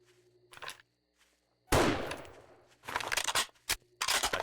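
A single loud gunshot cracks in the survival game 7 Days To Die, a sharp blast with a decaying tail, followed by scattered quieter clicks and game noises around it.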